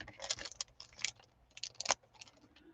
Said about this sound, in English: If I close that little plastic bag and then open it up on the side